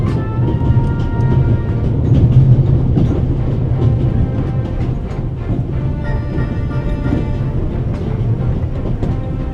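Steady rumbling of a train running in the video game The Raven: Legacy of a Master Thief, dense and fairly loud, with a low mechanical roar and faint rhythmic clatter throughout.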